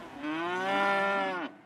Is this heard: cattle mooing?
yes